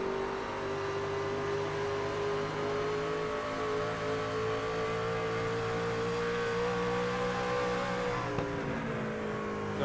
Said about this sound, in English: On board with the Team Watson Racing setup, number